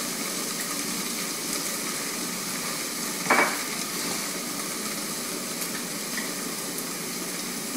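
A pan of Tex-Mex Philly-Lada filling bubbling and sizzling steadily on the stove, a dense even hiss throughout with one brief utensil clink partway through.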